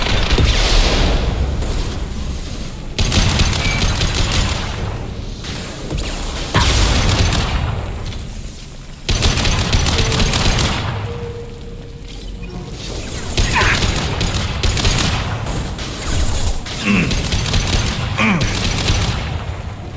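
Gunfire in Mass Effect 2: repeated booming shots and blasts in bursts every few seconds, mixed with mechanical clanks and whooshes in a dense, loud combat soundscape.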